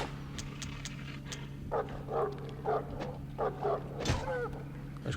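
A dog in a horror video game on the PlayStation 2 gives several short, rough barks and growls in an irregular series, with a steady low hum underneath and sharp effect sounds in between.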